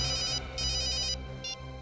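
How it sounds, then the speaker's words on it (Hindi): A telephone rings as a call is placed, with bright electronic trills in three bursts, two longer ones and then a short one, over a low steady hum and no speech. "हाँ मैं दया को फोन करता हूँ।"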